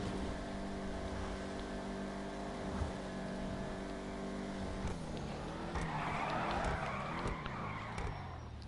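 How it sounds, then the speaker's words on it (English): A car in GTA Online is driven into a drift, its steady engine drone shifting midway into a rising broadband rush of tire skid and engine revving, loud and close, with no talk. "Let's actually try to end this driving session with a drift, maybe."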